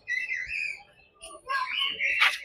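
Cockatiels at Nandankanan Zoo give shrill, warbling whistled calls, a longer wavering call first and then rising screechy notes, close and clear over quiet low background noise.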